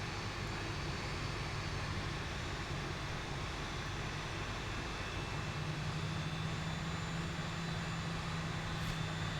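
Engines of a Boeing 737-800 taxiing slowly in the X-Plane 11 flight simulator, a steady unbroken roar and whine that holds at an even level throughout.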